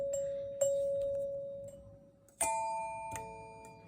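A 1959 NuTone L-30 Chord-Tone doorbell chime, missing one of its bars, strikes clear ringing tones that sustain and fade, then sounds again with a second higher pair of notes, close and alone.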